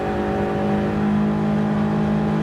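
Race car engines droning steadily in the racing video game Gran Turismo 7, a dense harmonic hum of several cars near the end of a race, continuous with no talk.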